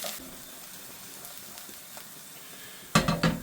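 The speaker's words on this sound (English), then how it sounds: "cook the raw flavours out of the spices and make sure everything's nicely incorporated" Madras curry spices frying in a pan, a soft steady sizzle through most of the moment, then a few loud scraping stirs of a spoon against the pan near the end.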